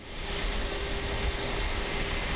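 An Inibuilds A310 airliner jet engine spooling up during start in Microsoft Flight Simulator 2024, a steady broadband roar with a thin high whine, constant and fairly loud throughout.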